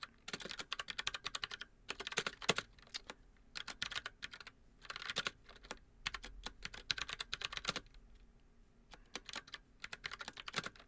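Quiet computer keyboard typing in a home studio, bursts of rapid key clicks separated by short pauses, close and alone with no voices.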